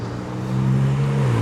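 Porsche sports cars pull away at the Nürburgring, a low steady engine drone that swells after a moment and holds, with the pitch easing down near the end, heard from a short distance.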